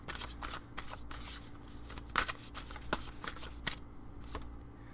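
Tarot cards being shuffled and drawn, a run of crisp riffling snaps and soft slides at close range, with sharper flicks standing out against a quiet room.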